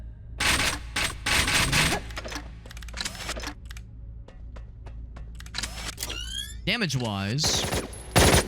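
Rapid bursts of gunfire from the video game Ghostware: Arena of the Dead, dense clattering volleys broken by short pauses and single shots, ending with warbling weapon effects, while someone talks over them.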